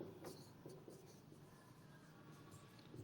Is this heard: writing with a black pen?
yes